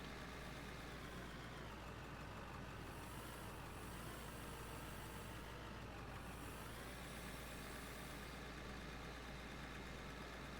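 A tractor engine in the mining game Out of Ore idles and rumbles steadily at a low level, a continuous droning hum with slight swells and no other sounds over it.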